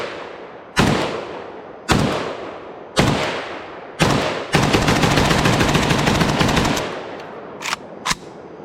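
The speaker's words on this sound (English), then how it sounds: "Last mag with the SAR-1 at dark, no flash hider" A SAR-1 rifle fired at night with no flash hider: four loud single shots spaced about a second apart, then a sustained rapid burst, then two quick final shots, close and alone.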